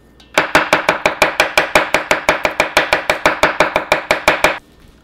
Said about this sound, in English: we are going to chop this up